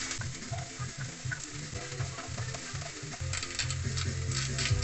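Garlic, onion and ginger sautéing in a pan, a steady close sizzle with soft stirring scrapes, growing slightly fuller and louder toward the end.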